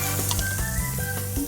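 Onion and mushroom sizzle steadily as they fry and caramelize in a pan for chicken cacciatore, a close, continuous crackle with faint tonal hum beneath.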